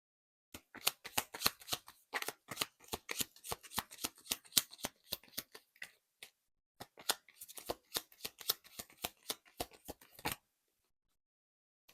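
Tarot deck shuffled by hand in rapid bursts of crisp riffling card snaps, close and clear, running steadily for about ten seconds with a short pause midway, then stopping abruptly into silence. No voices.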